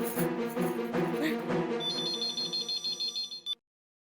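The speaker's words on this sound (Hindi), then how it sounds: "नट्टू काका और बाघा भाई को फोन करती हूँ" A telephone ringing in a Hindi sitcom household scene, a loud electronic ring pulsing in a rapid repeating pattern over busy background music, then cutting off abruptly.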